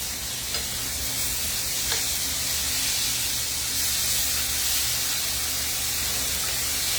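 Cube steak browning in a frying pan sizzles and crackles in a steady, dense hiss that holds for the whole stretch, with only faint small pops.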